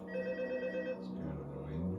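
Telephone ringing in the FNAF Help Wanted video game, a steady electronic ring holding at moderate level throughout under a low hum of game ambience, with no talk in the clip.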